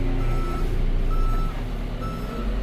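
A Deere 410L backhoe at an equipment auction reverses in four-wheel drive, its backup alarm beeping steadily over a loud, continuous diesel engine rumble close by.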